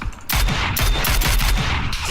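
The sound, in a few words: gunfire from video game PUBG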